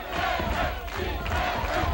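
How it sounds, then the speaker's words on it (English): Italian crowd at an amateur boxing dual meet chanting for boxer Michele Picario, a loud, sustained mass of voices in rhythmic unison filling the arena, dense and continuous with rising and falling swells. "that's the chant from the Italian crowd, trying to cheer on Picario here in round number 2"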